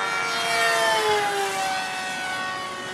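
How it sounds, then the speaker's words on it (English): An E-flite Scimitar Carbon-Z RC jet plane streaks past with a loud, steady high-pitched whine whose tone slides downward as it goes by, moving fast and staying fairly close throughout. "It's a very fast plane, but damn, it rolls fast."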